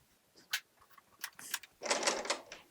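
A serger sewing machine runs in short bursts while its knife trims a scant eighth inch off fabric, giving quiet whirring, clicking stitches close up with pauses between runs.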